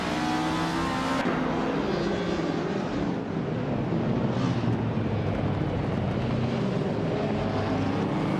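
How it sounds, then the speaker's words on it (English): A 1989 Ford Sierra RS 500 race car in a racing video game roars at full throttle, a dense, loud engine and wind rush that holds steady throughout with no voices. "Bottom Just Platinum is taking the lead from pole, cruising in a classic 1989 Ford Sierra RS 500"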